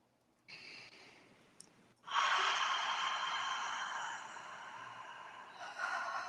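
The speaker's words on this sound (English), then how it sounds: "Taking a nice deep breath here." A slow, deep breath is drawn in through the nose and then let out steadily, close and quiet, during a guided meditation with hands resting on the belly and chest.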